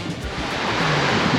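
Continuous wash of sea surf beside the sea at Limbe, Cameroon, broadband and fairly loud with wind buffeting the microphone, no voices.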